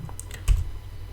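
Computer keyboard keys tapped while typing a command, a few quick close clicks with one louder keystroke and no talking.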